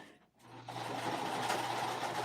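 A sewing machine starts up and then runs steadily at close range while stitching a dragon-shaped Hugo bag, a short continuous mechanical whir heard alone.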